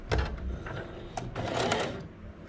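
A home sewing machine stitching a skirt seam runs at a steady whirring chatter with rapid needle clatter, close up and fairly loud, with slight changes in speed; no voices.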